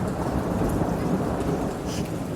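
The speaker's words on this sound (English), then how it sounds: "You're scared of thunder, I think." A thunderstorm rumbles with a dense, continuous low roll of thunder and a wash of rain, loud and enveloping, with no voices.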